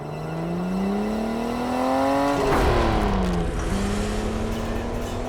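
A car drives close by, its engine tone climbing steadily as it accelerates, then dropping in pitch as it passes and pulls away. The sound is loud and smooth, with no talking.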